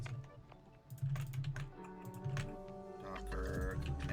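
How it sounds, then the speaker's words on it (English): Rapid computer keyboard typing with a faint squeak on some keystrokes, close and steady over a low hum, getting busier and louder toward the end. "I feel like my keyboard is squeaking for some reason."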